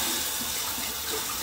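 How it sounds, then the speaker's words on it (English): Tap water runs steadily over a shaving razor to warm it, a close, constant hissing splash with no pauses or voices. "On my razor, get it a little heated up, some water going in on it."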